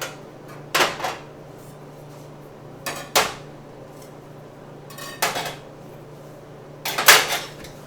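Metal knives drawn out of a Kapoosh knife block one by one, giving four separate bursts of sliding, clattering scrapes spaced about two seconds apart over a quiet room hum.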